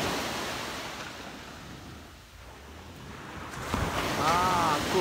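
Sea waves wash and wind buffets the microphone at the beach, a broad steady roar that dips briefly, then swells louder with a faint tonal chirp near the end.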